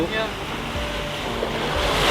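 Sea waves rolling and washing near a small fishing boat out on the open ocean, loud and close, with gusting wind buffeting the microphone and a rising surge toward the end.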